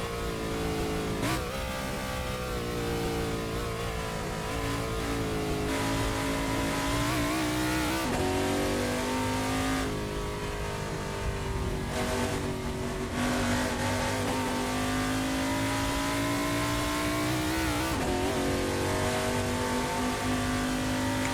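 A Holden VH Commodore on a fast lap at Morgan Park Raceway in Assetto Corsa gives a loud, continuous engine drone that rises and falls through gear changes and corners. There is no talk over it.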